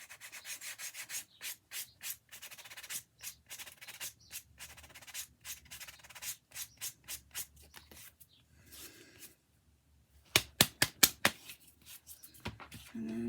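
A leather edge is sanded by hand in quick rhythmic rasping strokes, steady for several seconds, then a pause and a sharper burst of strokes, close and quiet with no voices.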